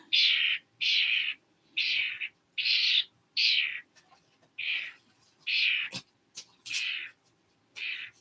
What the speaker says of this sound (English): This is a bird that I rescued